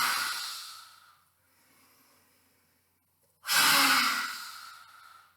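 A forceful open-mouthed exhale with the tongue stuck out during yoga breathing, a loud breathy rush near the end, preceded by an earlier fading exhale and a quiet in-breath.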